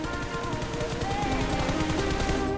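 Rapid automatic gunfire from a mobile shooter video game, dense continuous bursts with steady loud rhythm and layered game sound effects throughout, no talk.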